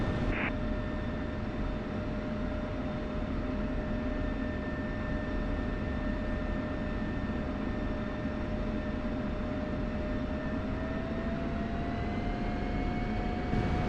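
Steady whine and roar of an F-16 jet engine idling as the aircraft taxis on a runway in the DCS flight simulator, a constant tonal hum over broadband rumble with no speech.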